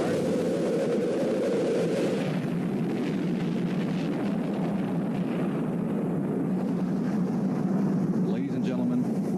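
Rocket main engines igniting at a launch, heard as a played-back recording: a loud, continuous broadband roar that holds steady for several seconds with a rumbling low end.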